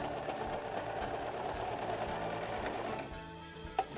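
A serger sews a blind hem stitch on fabric, a steady fast mechanical whirring chatter running continuously at close range, then slowing and stopping near the end with a small click.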